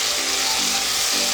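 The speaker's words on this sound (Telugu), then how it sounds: "టమాటా లైట్గా ఆయిల్లో మగ్గి వేగుతున్నప్పుడు మన ఆలుగడ్డ వేసేస్తున్నాం" Tomatoes frying in oil for a rajma aloo curry, with potatoes added to the pan: a steady, close, dense sizzle continuing throughout with faint scraping.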